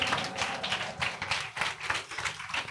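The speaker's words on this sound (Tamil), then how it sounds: "கை தட்டுமா எல்லாரும்?" Congregation clapping hands together in a steady, continuous rhythm during a Tamil church Sunday service, a dense run of close claps filling the room at moderate loudness.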